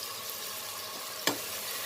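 Garam masala powder fries in a pan for kabuli chana pulao, a steady soft sizzle with one sharp scrape of a spoon stirring midway, close and even.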